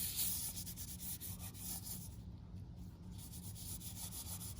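A soft, steady rubbing scrape as antique gold paint is worked by hand onto garden pavers, a faint continuous texture with slight rhythmic strokes and no talk.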